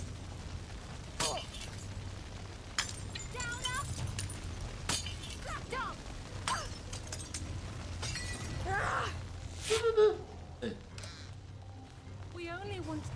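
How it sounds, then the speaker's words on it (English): Glass bottles shattering in the video game We Happy Few, several sharp breaks scattered over steady game background noise, with voices talking throughout. "I throw every glass bottle I have at you."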